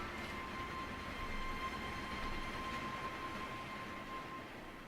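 Train in Resident Evil 2 remake, a steady low rumbling drone with a faint whine, continuous and even throughout, no voices.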